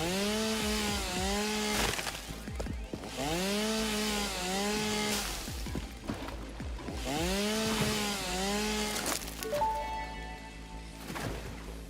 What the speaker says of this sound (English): Gotta chainsaw some of the fungi